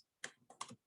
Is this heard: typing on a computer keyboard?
yes